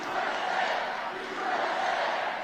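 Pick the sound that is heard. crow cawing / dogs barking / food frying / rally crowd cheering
rally crowd cheering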